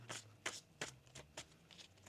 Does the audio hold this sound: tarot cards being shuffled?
yes